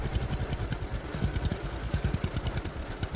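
An old tractor in the video game Lumberjack's Dynasty runs with a steady, low, chugging engine rumble, close and continuous, rhythmic pulsing throughout without any voices.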